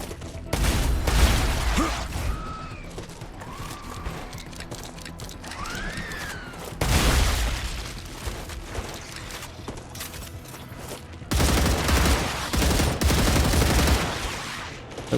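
Gunfire in a video game, bursts of automatic shots in three loud clusters separated by quieter stretches with whistling and mechanical clicks between.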